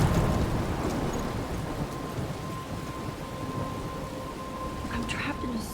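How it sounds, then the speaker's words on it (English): A thunderstorm in the game Life is Strange, with heavy continuous rain and rolling thunder filling the scene loudly, a low steady tone beneath, and a faint voice at moments. "I'm trapped in a storm?"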